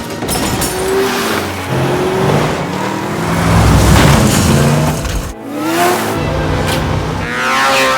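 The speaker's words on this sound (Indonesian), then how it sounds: "Maria dan Will berhasil masuk ke dalam jeep dan langsung tancap gas" A jeep roars off and accelerates hard, its engine revving loudly and steadily for several seconds, with a brief dip before surging again.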